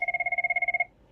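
A mobile phone rings during a lecture, a rapid trilling electronic tone pulsing about a dozen times in under a second before cutting off, clear and close.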